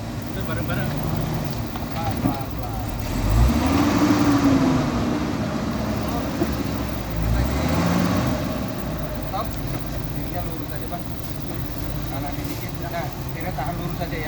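Mitsubishi Pajero off-road vehicle at an off-road fun event, engine revving up and down in two swelling surges over a constant idle rumble, close by, with people talking and calling instructions throughout.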